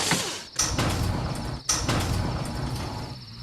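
A garage door for a Hammond Overhead Door Company ad, rumbling and rattling as it slides, with two sharp clunks as it moves, loud and close.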